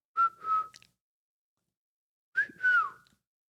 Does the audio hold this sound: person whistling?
yes